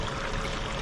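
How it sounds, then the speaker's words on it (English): Water rushes steadily through a Gold Hog high banker multi sluice set up for gold prospecting, a continuous loud pouring stream with no pauses. "I always love the sound of water running in the background."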